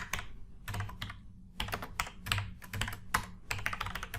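Code typed on a computer keyboard in quick, uneven bursts of crisp key clicks with short pauses between runs, close and fairly quiet, with no talking.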